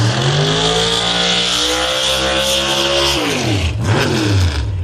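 Drag racing door cars or dragsters launching at London Dragway, a loud continuous engine roar that rises in pitch, then drops and shifts as a second car sweeps through, heard up close with no talk.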